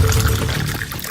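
Water poured for someone to drink in a home, a short steady splashing pour close by with no talk over it.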